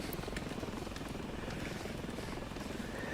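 Helicopter in the video game Ravenfield, a dense continuous rotor and engine roar with a low rumbling texture, steady and fairly loud with no talking.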